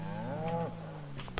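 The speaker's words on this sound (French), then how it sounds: "Et là, je viens de trouver des vaches." Cows moo in the Project Zomboid video game, a single long, low, drawn-out call near the start, followed by quieter ambient game sounds.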